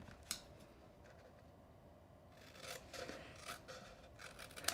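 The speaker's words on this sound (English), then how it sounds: "I'm gonna cut off this triangle" Scissors cut a triangular piece off a paper gift box, a few sharp snips and scraping paper close to the microphone, quiet and without speech.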